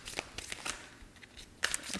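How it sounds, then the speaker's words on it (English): A deck of tarot cards being shuffled, a few quiet papery riffles and slaps arriving in brief uneven bursts, soft and close with a sharper flick near the end. "Shuffle that some more."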